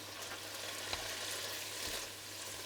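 Vietnamese water spinach sautés in a pan with a soft, steady sizzle and faint occasional stirring clicks, quiet and close with no talk.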